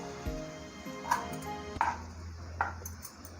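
Knife chopping coriander leaves on a board, a few separate chops with a faint ringing ping, close against a hum of kitchen background, no clear talk.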